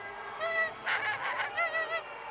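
A child imitates a flamingo call with a few nasal, honking bursts, loud and close, in an uneven cluster of about four calls.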